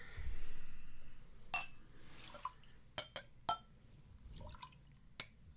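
Bourbon tipped from a glass into a coffee cup gives a short splash and trickle, followed by scattered drips and light glass clinks close by in a quiet room.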